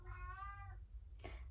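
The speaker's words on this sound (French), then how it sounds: "Il y a mon chat qui miaule." Pet cat meowing indoors, one drawn-out harmonic meow followed by a short, sharper chirp-like cry, fairly faint and close with quiet background hum.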